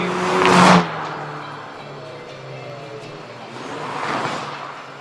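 A 2014 Cadillac ATS at a spectator drag race passes with a loud rising roar at full throttle, then fades, and a second engine swells and recedes in the distance.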